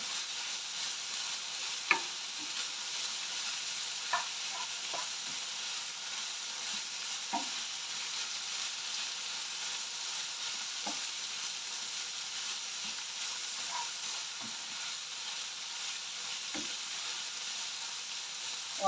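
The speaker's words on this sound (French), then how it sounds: "Et là, je fais dorer sans la sauce." Meat pieces with garlic and salt browning in a pan, giving a steady low sizzle throughout with occasional soft ticks and clicks, fairly quiet and with no voices.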